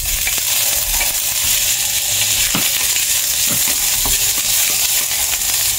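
Button mushrooms hitting hot oil with browned garlic in a pan give off a steady, dense frying sizzle, close up, with a few scraping clicks of stirring and no voices.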